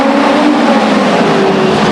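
Race cars roar past the grandstands at Stockton 99 Speedway, a loud, steady, sustained engine drone with shifting pitch and no pauses.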